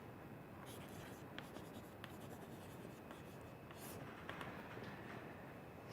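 A lecturer writing during a lecture gives faint, scattered scratching strokes and light taps over a low, steady room hum, quiet and close, with no speech.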